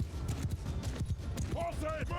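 Cavalry horses and horse archers galloping in Mount & Blade II: Bannerlord, steady clip-clop of many hooves with a brief whinny near the end, all under a voice calling commands.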